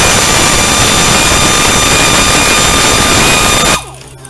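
A power tool whines loud and continuous as it removes the last bolt from an early-model Corvair engine, then cuts off abruptly near the end, leaving near silence and a small knock.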